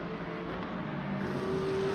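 GT3 race cars driving in Le Mans Ultimate at Bahrain, a steady engine drone of a mid-pack battle with a higher engine note rising near the end.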